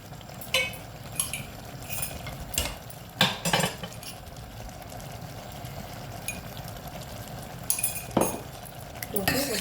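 A spoon stirs pounded cumin and chili into cooked, salted dal in a metal pot, with intermittent clinks and scrapes against the pot over a low background hum, and no speech.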